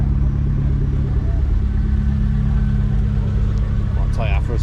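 A Nissan S13 200SX engine runs at a steady idle at a Japanese car show at Santa Pod, a constant low rumble with a brief voice near the end.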